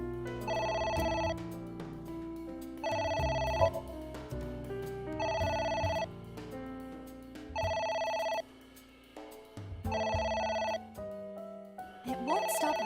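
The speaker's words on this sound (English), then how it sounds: "It won't stop ringing." A phone rings repeatedly in the video game AI: The Somnium Files, six regular bursts of a bright electronic trill separated by short pauses, fairly quiet over a low game soundtrack.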